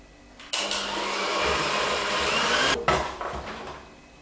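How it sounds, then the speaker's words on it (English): An electric mixer beating egg into lemon drizzle cake batter, whirring up loudly after a quiet start, holding a steady buzzing drone, then briefly cutting out and restarting with a few rattling bumps. "I'm going to use my mixer to mix in until the egg is combined really well"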